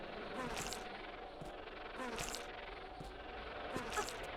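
Wasp in the game Tomb Raider III buzzes near and far, with an insect drone that swells in about three passes over steady ambient game noise, no talk.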